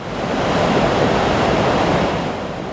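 Fast-flowing river floodwater during a record century flood rushes in a steady, loud, unbroken roar with no speech.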